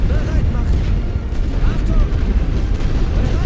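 Artillery shells in the World War I strategy game The Great War: Western Front burst in a dense, rolling barrage of loud, low booms, with a voice talking over the continuous rumble.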